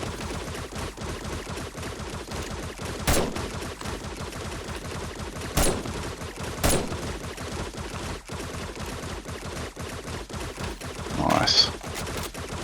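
Gunfire in the video game 7 Days to Die during a horde night at a sniper and dart-trap base, with a few sharp isolated shots standing out over a busy background of rapid clicking trap fire and game noise.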